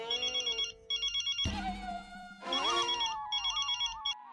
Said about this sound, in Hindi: तारक, किसका फोन था?